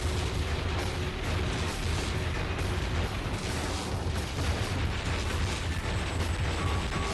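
Gunfire in a PS1 video game, dense crackling bursts and mechanical clatter over a rumbling low background, continuous and loud with no talking.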